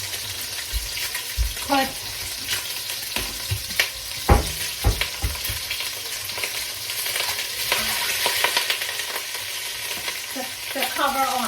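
Fifteen eggs going into a pot of hot oil for curry, crackling and popping over a steady sizzle with scattered clanks of stirring, close by; a voice speaks briefly.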